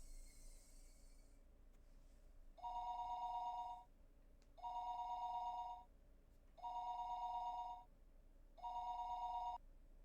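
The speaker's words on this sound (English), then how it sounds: "The phone rang for a third time." Telephone ringing with four evenly spaced electronic trills, each lasting about a second with short quiet gaps between, clear and moderately close.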